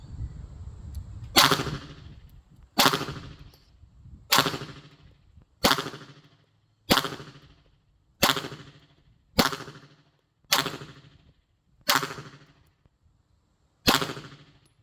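Pistol shots fired one at a time during an IPSC warm-up drill at about seven meters, ten sharp, loud reports spaced roughly a second apart, each ringing out in a short echo, with no talking.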